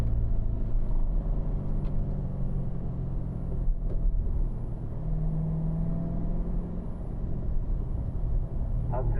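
A Corvette's engine drones and rumbles steadily under load as the car pulls through the gears, a loud, close, continuous low roar with a faint whine rising and falling, no voices.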